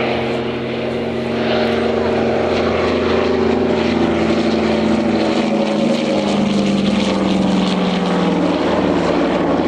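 Steady, loud propeller drone from an aerobatic display plane making a low-speed pass at the Cotswold Airshow, holding a sustained engine roar throughout with a slight pitch shift, while a commentator talks over it.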